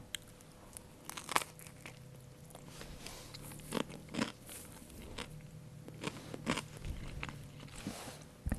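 Close, crisp bites and crunchy chewing of a liver pâté sandwich, with irregular crackling and soft wet mouth sounds repeating over several seconds, alone without talk.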